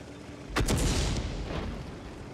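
Big HE tank cannon firing in World of Tanks: a single heavy, booming shot with a sharp crack, then a rumbling tail that fades over a couple of seconds above steady background noise.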